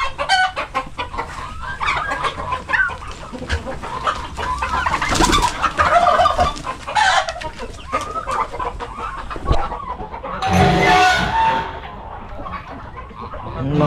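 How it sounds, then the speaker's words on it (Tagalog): A flock of ducks quacks loudly and nearby on a farm, with overlapping honking calls that come in dense, irregular bursts and build into a louder cluster toward the end. "Mga bibi."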